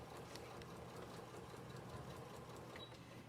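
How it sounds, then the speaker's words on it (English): A sewing machine runs steadily, stitching around all four sides of a reading pillow, with a quiet, continuous motor whir and no talk. "I am sewing around all 4 sides of the pillow"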